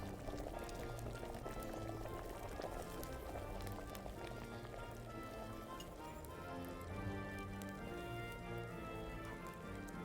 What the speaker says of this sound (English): Boil it for 1 turn.